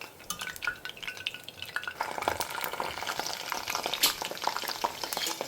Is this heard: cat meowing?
no